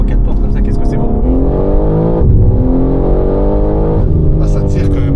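A four-door BMW M3 built to about 1,000 horsepower pulls hard under loud interior engine roar, pitch climbing steadily through gears with brief shift breaks, while a voice talks over it.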